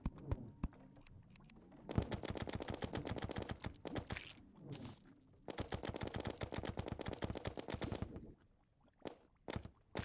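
Rapid, steady video game gunfire from Terraria aimed at fire imps, rattling continuously in long bursts with brief pauses between volleys, fairly faint and even.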